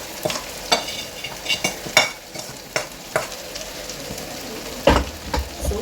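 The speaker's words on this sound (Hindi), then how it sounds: "So now I will give it a good mix" Bitter gourd curry with tomatoes and onions is stirred in a hot pan, with a spoon scraping and knocking in uneven strokes over a continuous sizzle and a loud clack near the end.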